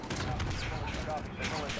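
Gunfire in Call of Duty: Modern Warfare, a dense, continuous crackle of rapid shots blended with a busy battlefield din and voices, lasting just under two seconds.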